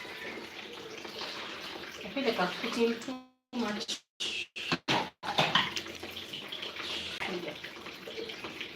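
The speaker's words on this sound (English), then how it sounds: "I'm going to add some cold water" Cold water pours from a tap into warm sugar water in a cooking pot, a steady splashing rush that breaks into a few short bursts before running again, with someone speaking over it.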